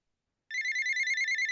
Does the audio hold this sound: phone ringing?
yes